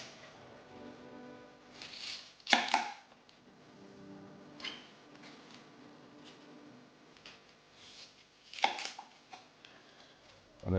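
A kitchen knife cutting the stalk out of half a small white cabbage on a board, with a few crisp, close chops and taps separated by quieter handling noises.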